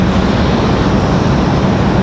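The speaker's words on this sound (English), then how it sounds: "Looks like our CRJ finally on the move here." A CRJ regional jet moving on the ground at Raleigh-Durham International Airport gives a loud, steady, broadband engine roar that sounds close and constant throughout, with no voices.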